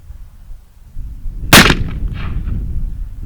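A single sharp, loud gunshot from an Uberti Remington 1858 revolver cracks out outdoors, followed by a brief rumbling echo over low wind noise.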